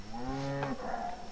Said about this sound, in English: Hello, cow.